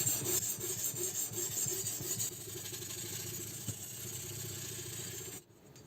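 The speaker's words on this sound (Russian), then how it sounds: "Ну и последний камушек — это 1000. Видите, я заточку делаю достаточно быстро" A knife drawn repeatedly across a 1000-grit sharpening stone on a Ruixin Pro RX008 rotary sharpener, giving close, rhythmic rasping strokes that stop just before the end.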